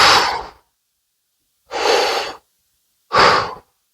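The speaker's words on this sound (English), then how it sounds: "And breathe deeply into your belly." Three deep breaths during a floor exercise for tight hip flexors, each a broad airy rush lasting about half a second, spaced apart with silence between, close and fairly loud.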